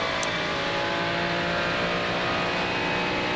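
A Ferrari 296 GT3 race car lapping Interlagos in iRacing, its engine roaring steadily at high revs, loud and continuous with no talk.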